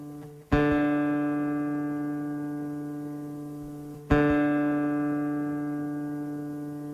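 Two plucks of the D string on an ESTEBAN nylon-string classical guitar during tuning, spaced a few seconds apart, each note sustaining and slowly fading, close and unaccompanied.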